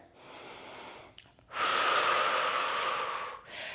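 Pilates workout breathing, a soft inhale through the nose followed by a long, loud, forceful exhale through the mouth, heard up close with no talking.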